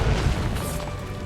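A heavy multi-explosion hit in the video game Monster Hunter World Iceborne, a loud, dense crashing boom lasting about a second with low rumble and a bright burst near its end.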